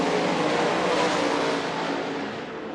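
Race cars roaring around a track during a night race at the Ernie Mincy Early Thaw, a dense, sustained engine drone with a close pass swelling then easing slightly toward the end.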